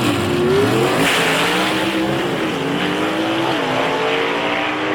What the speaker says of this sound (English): Good drag race right here